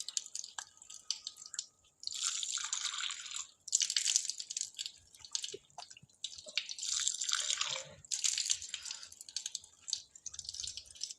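Tap water pours and splashes over arms during ablution, coming in several bursts of running water with dripping between them, close and fairly quiet.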